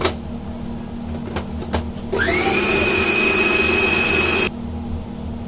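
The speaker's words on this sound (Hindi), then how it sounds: "काटे और अभी चॉपर करेंगे" An electric chopper grinding cooked, masala-coated chicken, a loud steady whining motor hum that starts abruptly after a few light taps and clicks, runs for about two seconds, then cuts off.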